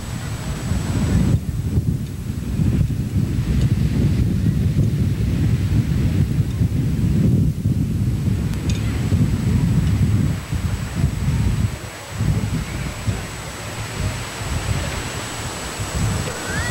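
Cold winter wind blows steadily outdoors at a spring 10K road race, a loud continuous rumble and buffeting across the whole stretch, with no voices.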